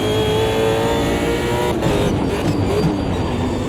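A Super V8 race car engine in the racing game Automobilista 2 at Montreal holds a loud, steady, continuous roar throughout with slight pitch shifts, and no voices.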